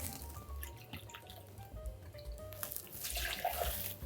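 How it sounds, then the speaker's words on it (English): Rice wine vinegar poured into a container for salad dressing, a steady trickling liquid stream running continuously and fairly close, growing a bit fuller toward the end. "We're gonna start off with about a half a cup of this rice wine vinegar."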